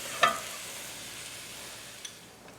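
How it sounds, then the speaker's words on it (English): Shredded coleslaw mix sautéing in a pan, a steady soft sizzle with one sharp utensil scrape near the start and a faint tap later, heard alone without voices. "I want to saute the coleslaw mix just until it turns tender"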